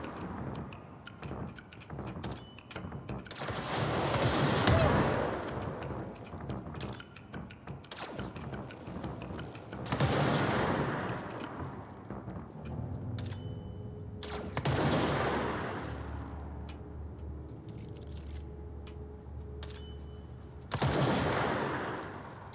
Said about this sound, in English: this is a charged weapon. I think that's what they mean by a charged weapon. Because I had to charge it up to use it